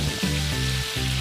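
Spoonfuls of egg batter sizzle and crackle in hot oil over a medium-low flame, a loud, close, continuous frying hiss with no talking.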